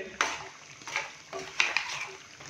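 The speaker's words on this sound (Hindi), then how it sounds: "ऑयल डालने के बाद अभी हम इसको अच्छे से भूनेंगे तकरीबन 4 से 5 मिनट के लिए हाई फ्लेम पे" Mutton in hot oil stirred in a karahi over high flame, with a few clattering spoon scrapes against the pan over a soft sizzle, close and moderately loud.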